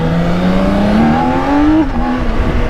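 A fast bagger touring motorcycle accelerates hard, its engine pitch climbing steadily through a loud, close rev before briefly dropping at a shift and pulling again, with no talk over it.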